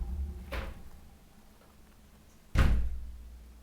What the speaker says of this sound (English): I'll just test this door.